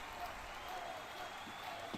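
Hockey arena crowd at a Jets vs. Avalanche Stanley Cup playoff game, a steady broad roar of cheering and clapping that fills the whole clip at moderate distance, with a commentator talking over it.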